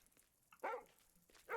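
A puppy in the puzzle game Lorelei and the Laser Eyes gives two short, sharp barks about a second apart, clear and fairly close against a quiet background.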